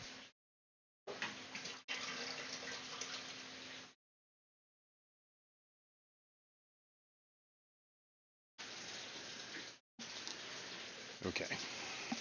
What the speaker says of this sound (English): Let me stop the water.